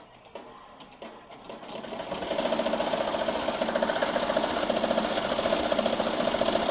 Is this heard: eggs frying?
no